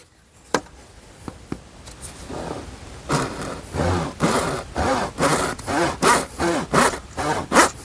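A hand saw cuts into material, starting with a few scattered taps and scrapes, then settling into loud, regular back-and-forth strokes, close and rhythmic, about two per second.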